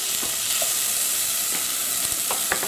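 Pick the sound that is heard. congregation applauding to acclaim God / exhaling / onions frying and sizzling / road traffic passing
onions frying and sizzling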